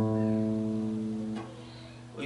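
The open A string of an acoustic guitar sounds as one sustained note, close and clean. A faint pluck or handling noise follows near the end.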